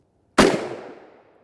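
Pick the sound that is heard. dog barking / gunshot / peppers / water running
gunshot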